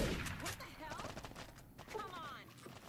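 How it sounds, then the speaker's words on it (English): In Fallout New Vegas, a hunting shotgun fires in a rapid clatter of repeated blasts amid game chaos, with a voice talking over the shots throughout. "let's do a bit of sniping with the hunting shotgun for a bit of fun"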